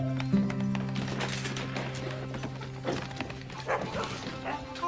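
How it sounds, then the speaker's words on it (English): Dogs bark outdoors in a quick, irregular series of loud woofs with a few yips, set over a steady low hum, with faint clip-clop and rustle between the barks. "Kelly, what are you barking at?"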